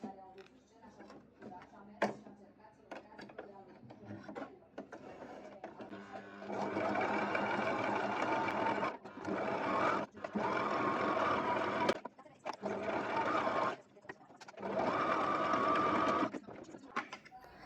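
A sewing machine stitches a loose Shein garment with brown thread, running in several sustained bursts separated by short pauses, close and loud, with fainter handling noises between runs.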